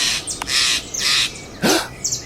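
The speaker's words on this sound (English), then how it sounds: "The gentle rustling of leaves, the soft chirping of birds." Birds call loudly and close by in a Washington Douglas fir forest, a run of harsh, raspy squawks and short chirps in quick bursts with brief gaps between them.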